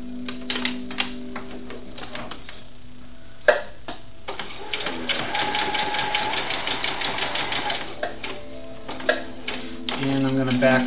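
A serger sewing machine stitches fabric for a doll dress, with bursts of rapid mechanical clatter that stop and start, broken by brief pauses and a sharp click, while music plays underneath.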